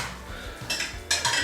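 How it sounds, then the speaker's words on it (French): Small pieces of cutlery clink and clatter as they are gathered and put away in a family kitchen, two bright metallic bursts close by with no talk. "Les petits couverts à ranger."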